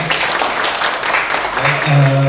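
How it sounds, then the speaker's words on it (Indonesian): Applause for a speaker at a mosque management panel discussion in a hall, with a steady patter of clapping from the audience under the host's talking. "Aplaus buat Pak Tony atas paparannya."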